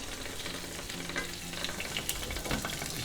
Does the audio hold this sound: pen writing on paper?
no